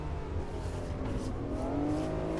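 A Honda NSX engine in Assetto Corsa hums at steady revs, slowly rising in pitch through a corner at Imola, loud and continuous with no talk.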